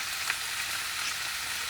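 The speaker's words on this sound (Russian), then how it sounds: "Пока не надо, пускай немножко она прижарится." Solyanka frying in a pan gives a dense, steady hiss of sizzling close by, continuous and even throughout with no voices.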